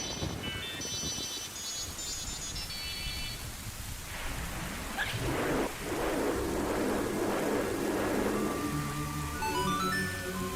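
In Majora's Mask, a short, high, tinkling melody plays, then rain pours down in a steady wash while low thunder rumbles in the middle and gentle tones ring out near the end.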